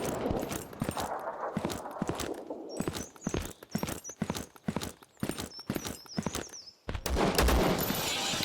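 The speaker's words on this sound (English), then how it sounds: "I thought I heard somebody stomping around" Heavy footsteps stomp around in the top-down survival shooter Zero Sievert, a dense run of sharp percussive thuds mixed with crackling gunfire-like bursts and a faint high tone, ending in a loud burst of noise.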